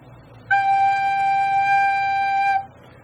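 A single recorder note G, fingered with the first three fingers, held steady and clear for about two seconds, played alone and close.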